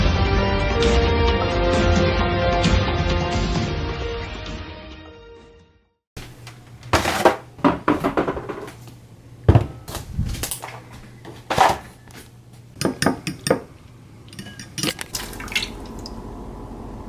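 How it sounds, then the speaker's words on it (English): Eggs with turkey and egg whites are cooked in a home kitchen, with scattered clinks and taps of dishes and utensils and some liquid drips, after a stretch of music. "So currently I'm just making me some eggs."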